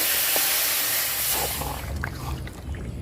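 Chicken meat, skin and legs, dropped into hot oil in a home kitchen pan, giving a loud steady hiss and sizzle that stays strong throughout, with faint clinks on top.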